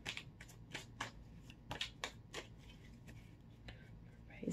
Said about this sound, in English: let me pull some tarot cards just to clarify this message